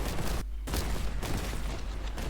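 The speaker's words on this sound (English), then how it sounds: "Oh, so there's a grav cannon in this game." A grav cannon fired in Warhammer 40k Boltgun, a dense, roaring, sustained weapon blast that fills the whole moment, broken by one brief gap, loud and close.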